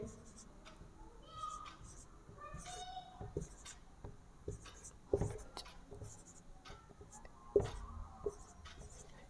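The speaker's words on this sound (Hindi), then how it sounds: "कुछ भी एक संख्या लिख रहा हूं मैं" A pen or pencil writes a number by hand during a maths lesson, faint scratchy strokes in short bursts, with a few soft thumps and some background voices.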